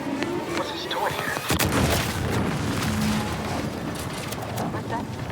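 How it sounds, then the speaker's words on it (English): Explosion in The Outer Worlds 2 video game: a dense, rumbling burst with crackling debris sustained at loud level throughout, under game dialogue. "What's that? An explosion?"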